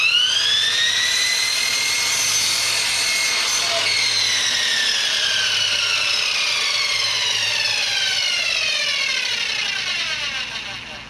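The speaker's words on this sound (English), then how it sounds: "When you're working with a saw that doesn't have a proper guard on it, don't touch anything until that blade stops spinning" A power saw cuts through wood for DIY shelves, giving one long, loud, steady whine that slowly drops in pitch and fades slightly at the end as the blade spins down.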